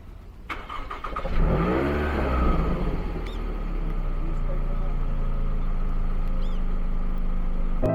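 A car engine in rural Japan cranks and catches, revs briefly, then settles into a steady, rumbling idle up close.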